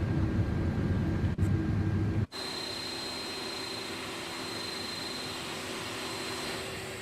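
Airbus A330-300 reverse thrust in Microsoft Flight Simulator: a loud, steady jet roar that drops out abruptly after about two seconds, then settles into a lower, even engine hum with a faint high whine throughout.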